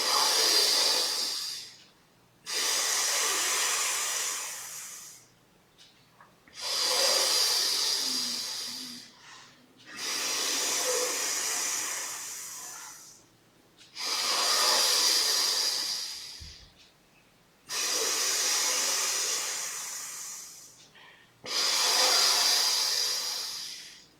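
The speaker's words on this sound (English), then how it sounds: "breathe out through your left nostril, and do the breathing through your left nostril in and out" Slow nostril breathing during a yoga exercise for insomnia and sleep apnea, heard as seven long, close, airy hissing breaths in and out through the left nostril, each several seconds long and separated by short quiet gaps.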